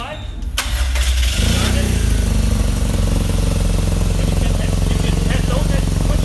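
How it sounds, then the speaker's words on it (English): A BMW motorcycle starts with a short whirring crank that catches into a loud, steady idle close by, the engine rumbling evenly for several seconds while someone says a few words. "Turn on the bike."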